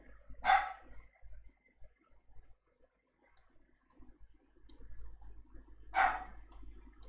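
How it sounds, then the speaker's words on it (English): A dog barks twice, single sharp barks spaced several seconds apart, moderately close, with faint clicking and low background hum between them and no talking. "I'm going to have to go and shout at my dog in a minute."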